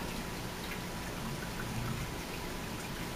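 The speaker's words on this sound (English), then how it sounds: "Thunder again?" Steady rain falls in a continuous hiss, with a low rumble of thunder rolling underneath that swells near the middle and then eases. No voices are heard.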